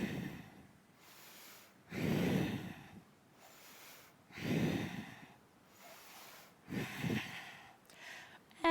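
Slow, deep breathing during a yoga pose, with long audible inhales and exhales repeating every couple of seconds, soft and close in a quiet room.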